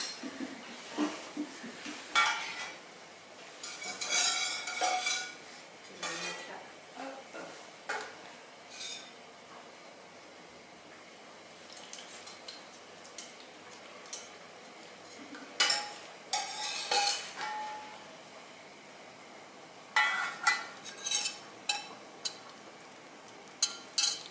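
Metal utensils clink and scrape against a pot or strainer while a fish cream sauce, finished with butter, is strained. The taps come in quiet, scattered bursts with near-silent gaps between them.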